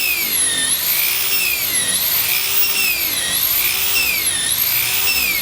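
A power sander works over the surface of a Nuova Jolly RIB boat, a loud constant high whine that rises and falls in slow regular waves as the tool moves back and forth.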